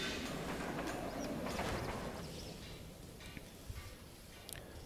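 A train running along its track, a steady broadband rumble that is loudest at first and gradually eases, with faint clicks toward the end.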